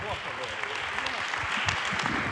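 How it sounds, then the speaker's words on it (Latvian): An indoor audience claps at a Latvian clean-up campaign launch event, a steady mid-level wash of applause with voices murmuring underneath. "Jā, aplaus arī Intam Teterovskim."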